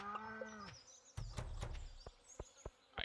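A cow moos in the farming game Stardew Valley, a single drawn-out low call at the start, followed by scattered game clicks and short buzzing blips.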